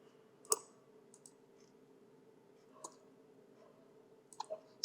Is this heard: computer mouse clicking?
yes